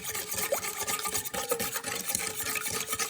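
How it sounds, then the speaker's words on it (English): Brown sugar being stirred into a sauce for ginger fried elk, a steady scraping and rubbing of spoon in a pot with rhythmic strokes, close and moderately loud, no talking. "We just mix all that in really nice till she dissolves."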